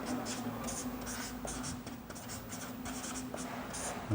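Someone writes out the definition of complex numbers in a maths lesson, making a steady series of short scratchy strokes over a faint background hum.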